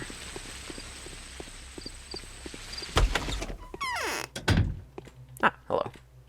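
Back door opening in the video game Pathologic, a sharp thunk and latch click followed by a creaking swing and further knocks, heard close over quiet ambient game noise with soft footsteps beforehand.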